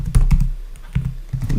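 Quick keystrokes on a computer keyboard, about five sharp clicks in an uneven rhythm, close and alone.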